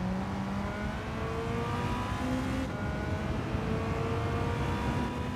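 A race car in Gran Turismo 7 driven hard around a track, a steady loud engine whine with rising and falling gear tones as it brakes and accelerates, continuous with no pauses.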